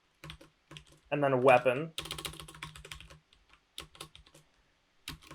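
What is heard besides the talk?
typing search terms on computer keyboard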